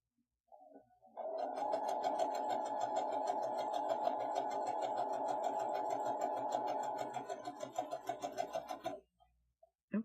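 A sewing machine with a Madam Sew gathering foot, set to a stitch length of 4, runs in one steady, loud burst for about eight seconds and then slows into a few separate stitches before it stops.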